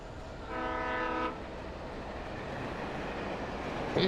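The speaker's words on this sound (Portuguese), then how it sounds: "Eita, é um trem, cara." A train in the video game Alan Wake sounds a horn blast, followed by a steady low rumble of rolling cars that stays present throughout.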